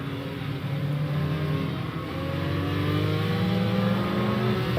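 A Porsche race car engine, the number 80 car in an endurance race in a racing game, drones loud and steady as it accelerates and its pitch climbs through the gears, with no voice over it.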